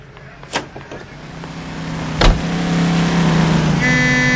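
A car driven in the L.A. Noire video game, with a steady loud engine drone that builds slightly, a couple of sharp knocks or thumps along the way, and no speech.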